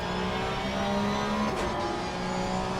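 Porsche race car circling the Red Bull Ring, its engine droning loudly with shifting tones and a brief upshift-like change midway, close and continuous with no talking.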